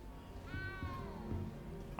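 A small cat in the game Hogwarts Legacy gives a single drawn-out meow, fairly faint and close, over quiet game ambience.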